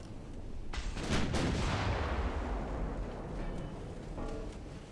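A warship's heavy gun salvo fires in the naval battle game Ultimate Admiral Dreadnoughts: a loud, booming burst of several overlapping blasts, followed by a long rumbling roar that slowly fades.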